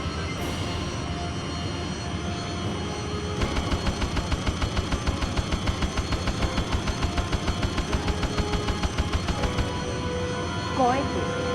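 A Harrier jet's cannon fires in the PlayStation game Eagle One: Harrier Attack over Maui Island, a rapid, even burst of rattling shots lasting about six seconds over a steady engine drone.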